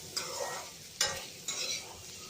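Onions and green chilies softening over medium heat in a pan for chili potatoes, with a few distinct scraping stirs at a steady pace over a soft, continuous sizzle, close and moderately quiet with no talking.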